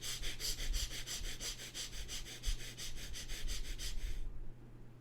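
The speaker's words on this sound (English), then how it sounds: "start breathing quick, short, and gentle breathing from the ribs" Quick, short, gentle breaths drawn from the ribs as a meditation breathing exercise, a steady run of rapid sniffing inhalations at close range that stops abruptly near the end.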